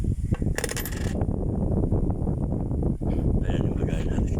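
Coins clatter and jingle into a sari-sari store coin container, a steady dense rattle of metal pieces piling up, loud and close.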